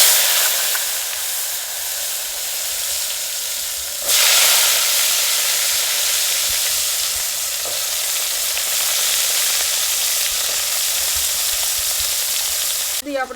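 Sliced bottle gourd drops into hot oil already tempered with mustard seeds, cumin and asafoetida, setting off a loud, steady sizzle with a sharp surge partway through and a brief clatter at the end.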